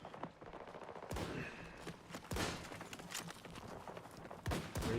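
Battlefield gunfire comes in sharp bursts of rapid shots, some close and loud, others more distant, over a low background din.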